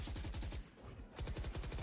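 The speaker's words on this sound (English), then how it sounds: "because of the gunshots, he expected someone to be on that left side." Rapid automatic gunfire from a Valorant esports match sounds in two dense rattling bursts, with a brief lull between them, steady and moderately loud with no voices over it.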